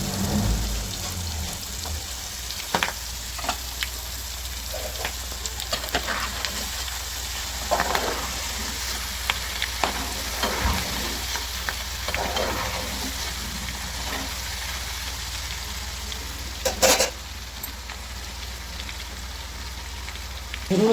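Chicken roast with masala frying in hot oil, a continuous crackling sizzle with scattered pops and occasional stirring scrapes, close and steady with no talking.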